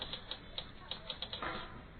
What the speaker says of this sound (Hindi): युग के पिता ने टाइपराइटर पर कहानी टाइप करते हुए कहा